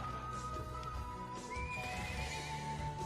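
A horse belonging to a riding club captain in Trails of Cold Steel 2 whinnies, with a rising neigh over clip-clopping hooves, all set within a continuous game music bed.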